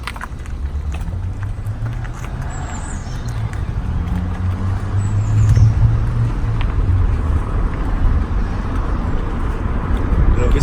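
A Renault Megane rolls down a hill, its low road rumble and engine hum steady and growing slightly louder, with someone talking over it.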